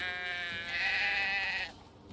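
A sheep in the video game Drova: Forsaken Kin bleats in one sustained, wavering call of about a second and a half, loud and close, cutting off into quiet game ambience.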